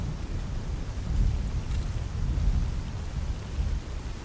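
A thunderstorm rolls through a night swamp in the game Escape From Pripyat, steady rain hiss over low rumbling thunder, continuous and fairly loud with no talking.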